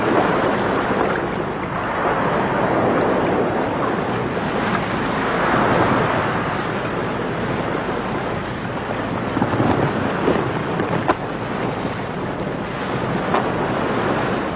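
Atlantic Ocean waves washing around a small boat far out at sea, a constant rushing surf with heavy wind buffeting the microphone, loud and unbroken throughout.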